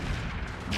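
A UAC-20 autocannon in RogueTech fires into a mech's back, making dense, loud, continuous booming gunfire over a brief moment.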